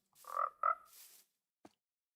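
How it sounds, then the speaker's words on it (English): Minecraft frog croaking, a game creature sound: two chunky croaks in quick succession, a softer trailing call, then a tiny click after a pause, heard clearly and alone with no talking. "I love frogs so much. They are so funny."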